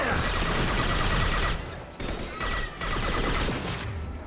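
Dense, sustained automatic gunfire from a Mass Effect 2 firefight rattles loud and continuous, dipping briefly between volleys with no pause in the shooting.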